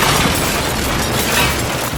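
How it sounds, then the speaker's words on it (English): A turkey-cooking rocket blows apart in a loud, sustained roaring burst of noise that fills the whole moment with no break or fade. "Simply put, it blowed up."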